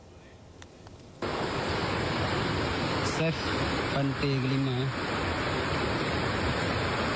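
Flood water rushing along a newly formed river channel at Pantai G5, South Aceh, a loud continuous roaring wash beneath a voice speaking in Indonesian.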